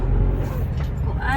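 Road traffic in a sudden jam in Cebu, with car and bus engines idling and rumbling close by in a steady low drone, a brief squeal near the end, and a voice speaking over it.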